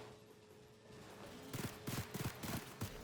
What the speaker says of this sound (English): I just dispense a few shotgun rounds to fix the problem